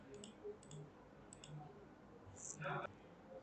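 A few faint, quick computer mouse clicks while filling out a web signup form, soft paired ticks spread over several seconds, with a quiet voice speaking throughout.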